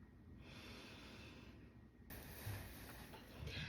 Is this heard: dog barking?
no